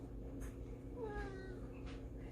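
A pet cat meows in a home kitchen while cookies are being made, with a few short, faint, whiny meows and one rising-then-falling call over a low steady hum, no talk.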